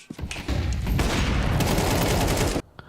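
Rapid gunfire in a Counter-Strike esports match, a loud close burst of sustained shots lasting a couple of seconds before cutting off sharply.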